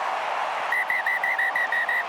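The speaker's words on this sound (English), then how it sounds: "And Damon Murphy double taps the whistle." A referee at a rugby match between the All Blacks and Wallabies gives a rapid series of short whistle blasts over the steady roar of a stadium crowd.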